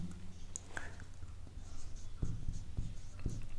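Chalk or marker writing on a board during a lesson, heard as soft scratchy strokes and short taps in a quiet room, with a faint voice now and then.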